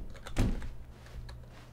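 A single door in The Stanley Parable thunks open with a short muffled knock, followed by faint quiet room tone and a light later tap.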